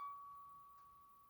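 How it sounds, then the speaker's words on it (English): A single toy piano note, C sharp, rings as a steady, thin, faint tone that slowly decays over about a second, alone with no talk. "and C sharp sounds like this"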